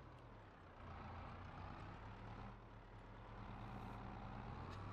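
A wheel loader's engine in Farming Simulator 22, working a Martian mining job, drones as a steady low rumble throughout with no talk, ending in a brief sharp click.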